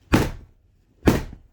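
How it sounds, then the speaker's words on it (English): A zipped cushion cover stuffed with fibre banged twice on a table, giving two dull, close thuds about a second apart with short tails and silence between. "you need to bang it a few times on the table"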